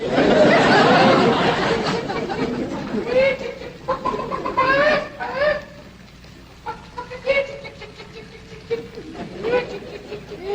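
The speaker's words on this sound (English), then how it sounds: "Jethro, go on out there and catch us a chicken" Chickens on a large rural property cluck and squawk in scattered bursts, mid-distance, with people talking and a vintage television soundtrack in the background.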